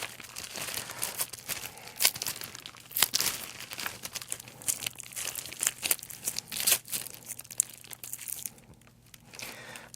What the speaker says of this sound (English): I'm going to cut some of this wax, microcrystalline wax